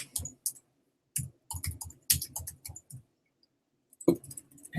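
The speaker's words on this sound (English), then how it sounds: "You can start typing it." Quiet, light taps on a computer keyboard while text goes into a Google Doc, coming in short irregular bursts broken by brief pauses, with no one talking.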